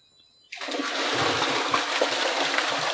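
Water from a 3 HP monoblock pump set drawing from a well bursts on suddenly and then gushes in a steady, close, broadband rush with no talk.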